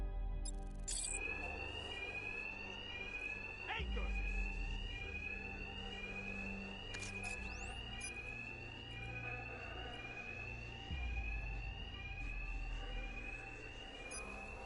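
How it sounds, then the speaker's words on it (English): A fire alarm blares inside a building in Batman: Arkham Knight, a loud, continuous electronic ringing with a repeating rising sweep, steady and unbroken, with thudding game sounds beneath it. "Two-Face's thugs won't hear me over the alarm."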